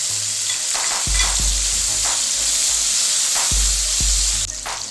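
Garlic and tomato pieces frying loudly in a pan, a dense continuous sizzle with a few soft stirring knocks and low thumps, no voices over it.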